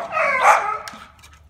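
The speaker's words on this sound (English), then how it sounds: "And the dogs are not being happy." Dogs bark and yelp in one drawn-out, fairly loud outburst, then fade into fainter, scattered yips.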